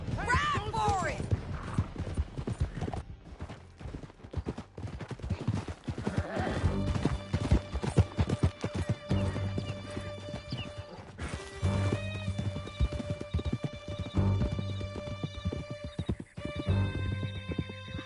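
Horses gallop in Red Dead Redemption 2 with rapid hoofbeats and a whinny, under game music and bursts of crashing action.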